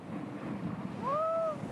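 Indian Ocean surf recorded on a camcorder, a steady broad wash of waves with wind buffeting the microphone, and a faint rising whistle-like tone in the last half second.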